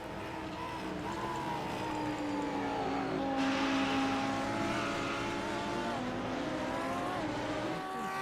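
A race car in the iRacing game at Watkins Glen drones past with a steady, loud engine whine that rises and falls in pitch as it shifts, with other engines layered underneath and no talk.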